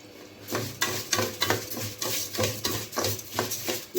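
Food frying in ghee in a pan while being stirred, a steady sizzle broken by repeated scraping strokes of a spoon, close and fairly loud.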